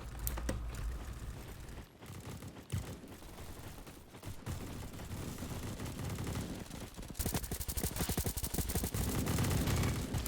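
Rapid automatic gunfire from a weapon in the Roblox shooter Bad Business, dense bursts and fusillades running nearly continuously, loud and close, growing heavier toward the end.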